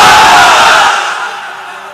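A large crowd of married men roars the Islamic chant Allahu Akbar in unison, one loud collective shout that swells and then fades away within two seconds.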